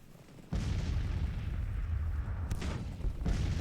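Massed musket volleys from a Civil War battle in the strategy game Grand Tactician, heard as a sudden loud roar of fire that keeps crackling and rumbling, with a few sharper bursts near the end.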